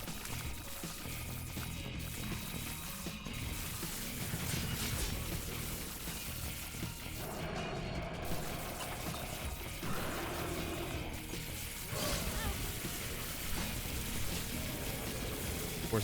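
In The Binding of Isaac: Repentance, Holy Water splashes wash over busy game action in a dense, continuous pouring, rain-like hiss that keeps going, thick with overlapping effects and no talk.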